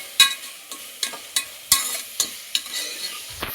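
A spoon stirs ginger-garlic paste and coriander in a pan for prawn biryani, giving a steady run of sharp scraping strokes about every half second over a low sizzle, close and alone with no talking.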